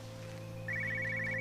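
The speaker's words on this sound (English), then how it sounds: "I think the ringing's coming from there, near the spots of blood" Telephone ringing in the video game Everybody's Gone To The Rapture, a thin electronic trill that starts midway and repeats steadily over a low ambient hum, moderately faint and unaccompanied by voices.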